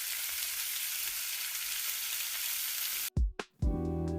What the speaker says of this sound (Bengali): এখন এগুলোকে আম্মু খুন্তি দিয়ে উল্টিয়ে দিচ্ছে যেন আরেক পাশ ভাজা হয়ে যায়